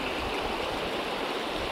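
Mountain river water in the Western Tatras pours continuously, a full, constant rushing babble heard up close and alone, unchanging in level.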